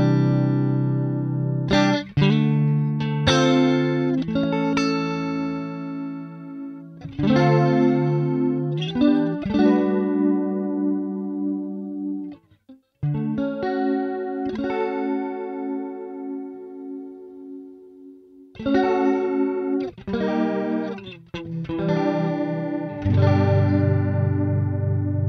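Funk guitar chords played through a Neural DSP Archetype amp-and-effects plugin, a run of bright choppy strummed stabs and sustained chords with short gaps between phrases, clean and close with no voices.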